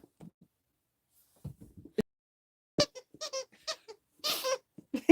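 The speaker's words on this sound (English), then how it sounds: "This is his squeaky avocado." A dog's squeaky avocado toy squeaks in a string of short, rubbery squeals, close and fairly loud, with scattered quiet gaps between bursts.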